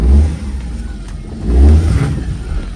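A car engine revs up and down in two strong surges while the car is turned in a tight spot, the low engine roar loud and close with no talk over it.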